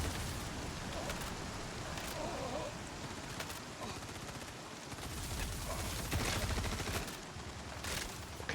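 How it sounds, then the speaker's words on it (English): Video game gunfire with dense, overlapping bursts and shots over a rumbling battlefield background, sometimes loud and close, continuing steadily with a faint voice now and then underneath. "Who's shooting me?"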